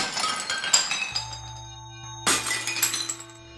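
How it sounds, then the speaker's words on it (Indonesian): Glasses break and shatter in two loud crashes, each followed by tinkling shards and clinking fragments, with a low hum running underneath. "Suara gelas pecah itu lagi terdengar begitu jelas."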